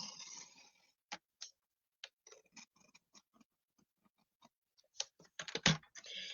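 Paper card being cut with a trimmer at 3 inches along a score line, heard as a run of short sharp clicks and scraping ticks, mostly sparse and close, ending in a louder cluster of quick cuts.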